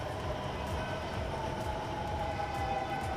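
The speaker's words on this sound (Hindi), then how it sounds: "जहां पर मेट्रो अब सर पर दौड़ती हुई नजर आ रही है" A metro train runs with a steady, dense rumble and rattling wheel noise at moderate loudness, with no voices over it.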